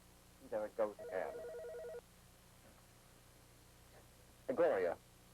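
A telephone rings twice in a 1997 slasher film on VHS, each burst of ringing separated by a pause, set against steady tape hiss with voices nearby.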